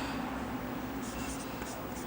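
A marker or chalk writes a definition on a board in a maths lesson, making soft scratchy strokes in short bursts under a steady hum of room noise.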